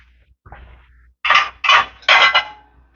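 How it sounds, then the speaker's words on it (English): A much larger cooking pan is handled in a home kitchen. Three loud metallic clanks come close together after a faint rustle, with no talking. "grab our other pan."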